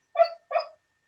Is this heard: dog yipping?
yes